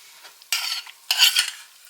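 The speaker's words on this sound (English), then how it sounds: "And get that stirred in." Food stirred in a pan on a home stove, two short bursts of scraping and sizzling about half a second apart, close and fairly loud over a quiet background.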